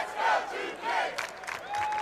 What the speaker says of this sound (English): Really nice crowd on hand here